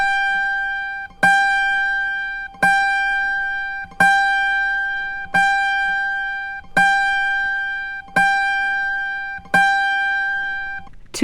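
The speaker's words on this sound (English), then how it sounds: "tune the G string to this pitch" An autoharp's G string gives a reference pitch, a clear plucked tone struck eight times at an even pace. Each pluck rings loud and sustained with strong overtones before slowly decaying, with no voices.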